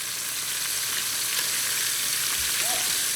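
Stingray frying in a pan, a dense and steady close-up sizzle that holds constant throughout, with no talking.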